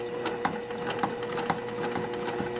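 A sewing machine stitches gray thread through fabric at speed, its needle mechanism clattering in a fast, steady mechanical rhythm with regular louder knocks, close and continuous.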